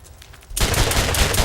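Gunfire in the video game Borderlands, a rapid burst of loud automatic shots that erupts abruptly after a quieter moment and keeps rattling steadily to the end.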